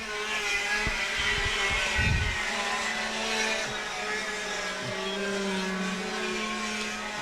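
KA4 Junior Heavy karts with X30 engines race on track, a steady, fairly distant engine drone with shifting pitch, overlapping whines and a brief low thump.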